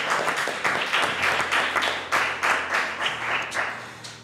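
A church congregation applauds in a rhythmic, unison clap. The beats are steady and evenly spaced, filling the room for several seconds.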